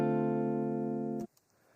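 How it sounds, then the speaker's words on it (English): A single neo soul jazz guitar chord is strummed and left to ring alone without a beat, sustaining evenly for about a second before being abruptly muted, followed by faint fret noise. "I'll let you hear it without the beat"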